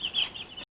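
Young chickens being readied for the coop give a brief, close burst of high clucking and chirping, cut off abruptly.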